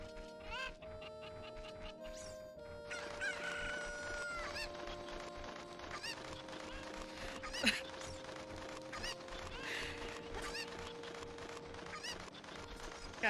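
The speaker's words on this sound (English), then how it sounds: "there's still one more chicken up here" Chickens clucking and crowing in the video game Zelda Ocarina of Time, fowl calls layered over game music with repeated squawks, no one speaking.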